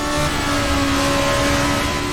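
A Formula Beta race car engine in a racing video game drones loud and steady, holding a sustained, even pitch throughout the short stretch.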